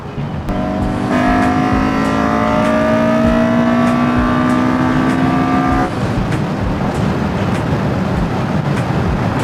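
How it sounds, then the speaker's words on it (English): A Honda K24 engine with a K24Z3 head swap and VTEC revs loudly and steadily, its rising harmonic engine note held for several seconds before dropping off into road and exhaust rumble. "That VTEC sings."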